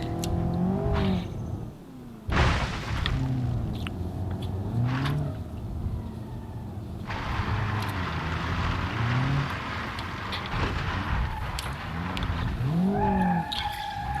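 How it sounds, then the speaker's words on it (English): A car in BeamNG Drive revs hard and spins out, engine pitch sweeping up and down through repeated surges with a sharp tire skid breaking in around the middle, loud and close throughout. "Already this thing started going around on me doing donuts."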